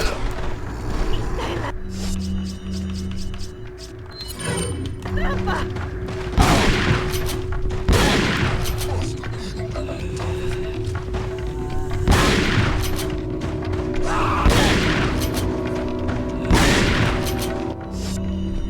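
Shotgun blasts from the video game Resident Evil 4 (2005), several loud booming shots spaced a couple of seconds apart over a steady game soundscape with a low hum.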